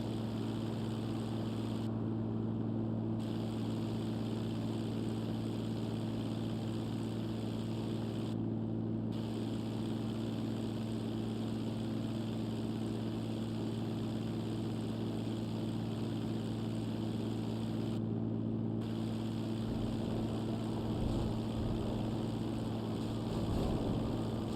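Airplane engine in the GTA Online video game: a continuous, even propeller drone with steady low hum, sustained throughout at moderate level with no talk.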